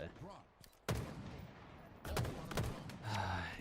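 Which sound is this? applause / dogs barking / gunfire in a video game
gunfire in a video game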